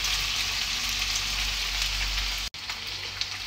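Chopped onion and garlic fry steadily in a hot pan for pork liver adobo, a close, even crackling sizzle with a brief cut near the end and no talk.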